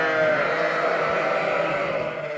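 Ewes with twin lambs crowd a sheepfold at a farm in March, giving overlapping, sustained bleats that blend into one loud, close chorus.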